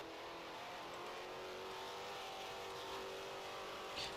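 Foxbody Mustang race cars roar around Laguna Seca raceway, a steady, dense engine drone that holds constant throughout with no breaks, heard from a distance with no voices over it.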